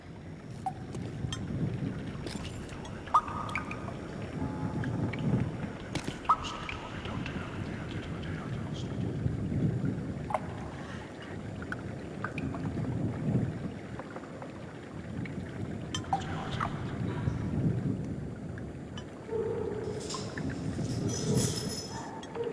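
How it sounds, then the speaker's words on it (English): Eerie ambience on the empty Asylum multiplayer map in a video game: low rumbling drone with occasional metallic clinks of rattling chains and creaking pipes, steady and moderately loud throughout. "Chains rattling, pipes creaking"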